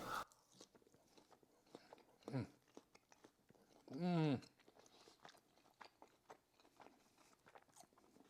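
Close chewing and biting of a pulled-apart Wagyu sirloin cap (picanha), soft wet crunches and mouth noises with brief pauses, plus a short vocal hum of enjoyment in between.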